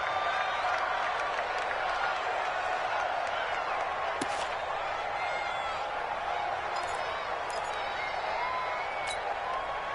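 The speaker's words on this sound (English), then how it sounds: "the crowd getting into it as we come up on a big 3rd down" A stadium crowd in a football video game roars and applauds in a steady, dense wash ahead of a big third down, with faint commentary voices running underneath.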